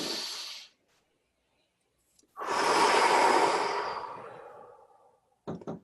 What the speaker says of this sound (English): So I just took like a really deep breath